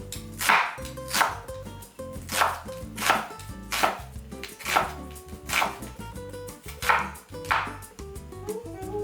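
A knife chops an onion into julienne strips on a cutting board, steady evenly spaced cuts repeating about every second, close and clear with no talking.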